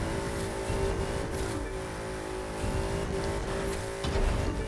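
A monster truck drives in The Crew 2 racing game, its engine droning loudly and steadily with revving swells and rough impacts as it moves along the course.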